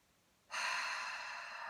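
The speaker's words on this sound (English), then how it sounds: "Some deep and easy breaths in through your nose" A single deep, steady inhalation through the nose during a calm grounding practice, close and soft, starting suddenly after near silence and holding as a smooth airy rush.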